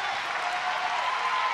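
A crowd applauds a lifter at the 2017 World Weightlifting Championships in the women's 69 kg event, a steady wash of clapping that is loud and continuous throughout.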